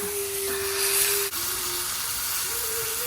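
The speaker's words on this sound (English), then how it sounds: "So I'm going to put this in my skillet and just get it browned up." A hunk of meat browning in a hot skillet, a steady close sizzle and hiss that runs unbroken, with a brief dip partway through.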